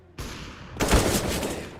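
Silenced M4 rifle fire in a CS:GO tournament match, a soft hum of ambience breaking into a rapid burst of muffled shots that continues as a dense, rattling volley.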